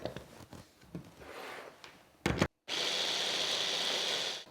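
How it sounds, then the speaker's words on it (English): Small food processor blitzing chopped shallots into a curry paste for massaman curry: a steady, loud whirring grind that runs continuously after a few brief knocks and a short burst. "into that I'm going to add one at a time and blitz well between each"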